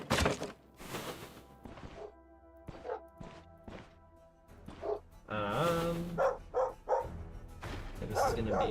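Dogs in a video game bark and yip in quick bursts amid thuds and crashing combat effects, with game music and a voice at times.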